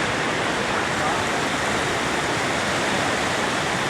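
Rushing floodwater in Attapeu roars as a steady, loud broadband wash, continuous and close, with no break across the stretch.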